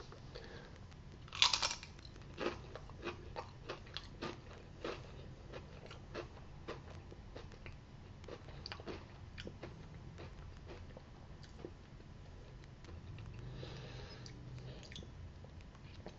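Crunchy bites and chewing on a tortilla chip loaded with artichoke jalapeno dip, a sharp crunch early on followed by a steady run of soft, close mastication clicks with no talking.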